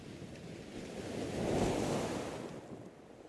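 Sea waves surge and break on a beach, a steady broadband wash that swells to a peak midway and then recedes, with some wind noise and no voices.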